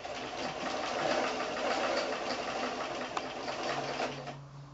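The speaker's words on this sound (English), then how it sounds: "I'm just going to do a straight stitch all the way around the heart" A sewing machine runs continuously, straight-stitching close to the edge of an appliquéd felt heart, with a steady, fast mechanical whir and rhythmic clatter, near and even, slowing toward the end.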